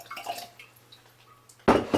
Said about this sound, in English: So now I'm going to go ahead and pour in a little bit of my filtered rainwater